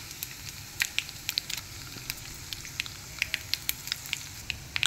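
Mustard seeds, cumin, urad dal and dried red chillies sizzle in hot oil for tempering, a steady frying hiss broken by sharp popping and crackling bursts close by.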